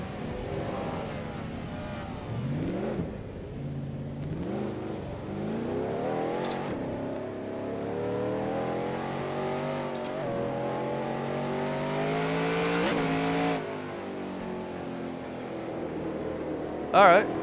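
Stock cars racing on the Hickory short oval in NASCAR Racing 2003 with a 1994 Busch Grand National field, engines whining and sweeping up and down in pitch as cars spin out, with tire screeches and occasional thuds, and a voice talking over it.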